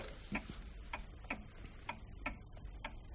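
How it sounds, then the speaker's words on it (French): Steady ticking of a pendulum clock in a silent house, a soft regular tock roughly every half second, close and quiet with nothing else around it. "C'est tellement calme ici qu'on entend la pendule."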